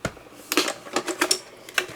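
A die-cutting machine cranks a warped embossing folder through its rollers, giving a close series of sharp clicks and clacks in irregular bursts over about two seconds, with no talk.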